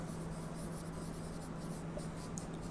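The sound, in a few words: writing while solving an integral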